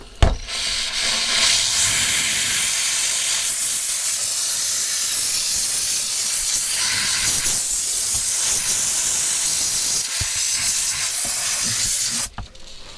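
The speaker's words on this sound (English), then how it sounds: "I'm stuck in here with a steam cleaner" A steam cleaner hisses continuously and loudly while cleaning grime from a shower, a steady broad spray with slight surges and a brief cutoff near the end.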